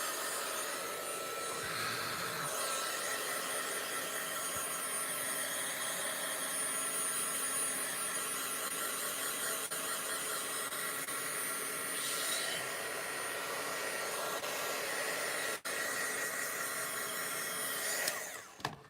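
A heat gun running at a craft table, a steady loud whooshing roar of blown air that holds for about eighteen seconds before cutting off at the end.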